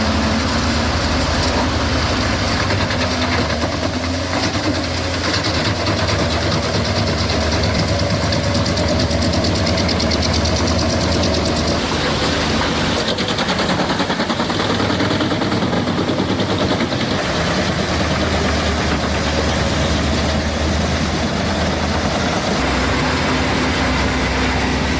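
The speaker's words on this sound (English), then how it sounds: "It shreds 24-inch logs like snacks" A log shredder with a 504 HP Scania DC-13 engine chews through 24-inch logs in a loud, unbroken roar of grinding and rapid knocking, the heavy machinery droning steadily throughout, slightly shifting in tone midway.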